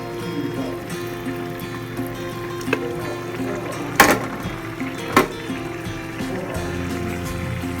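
Meat stock poured into a pot while cooking Nigerian fried rice, a steady liquid pour and splash with a few sharp pot clinks, close by and alone.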